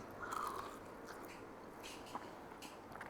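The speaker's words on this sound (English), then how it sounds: "You got that crunch on the outside from those breadcrumbs." Someone bites into a crunchy breadcrumbed cod fishcake and then chews softly, giving a crisp crunch followed by faint, close, moist chewing with no talking.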